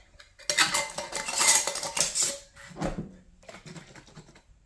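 Metal lids fitted onto two glass jars of quick pickles, giving a run of close clinking and scraping rattles, then a lower clatter and a softer tail of small taps.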